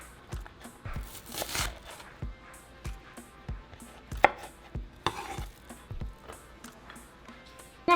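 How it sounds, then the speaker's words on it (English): Knife cutting an onion into strips on a board, rapid close taps and slicing strokes in quick irregular bursts, with a few sharper crisp cuts and brief rustling in between, no voices. "for our onion, we're going to cut it into strips. And then slice them in half."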